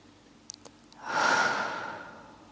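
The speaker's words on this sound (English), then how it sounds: "Exhale." A single long, deep exhale during a yin yoga session for back pain, a breathy rush that swells and slowly trails off, close and clear after a couple of faint clicks, no talking.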